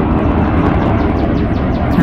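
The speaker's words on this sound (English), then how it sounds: "I know there's an airplane going by." A jet aircraft passing overhead near an Air Force base, a loud, steady, broadband roar filling the whole moment without pause, with a faint voice speaking briefly beneath it.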